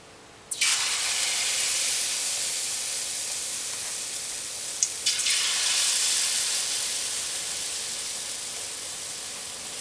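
Banana fritters dropped into very hot, lightly smoking oil on a high stove, an abrupt loud sizzle that holds steady as a bright hiss, with a second batch adding a fresh burst of crackling midway.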